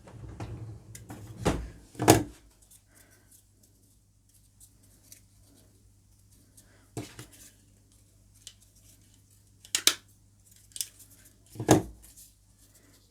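A stapler snaps through joined pieces of cut toilet roll tube to form a simple flower, giving a handful of sharp, close clicks spread apart by quiet pauses, with faint handling noise in between.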